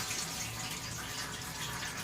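Stale gasoline from a winter-stored lawn mower pouring out in a steady, unbroken splashing stream, close by and moderately loud, with no voices.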